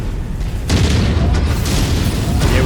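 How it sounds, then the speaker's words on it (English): A structure blown up in the Mechwarrior 5 video game erupts in a sudden loud explosive boom that keeps rumbling heavily and low for a couple of seconds. "Can we actually blow that up?"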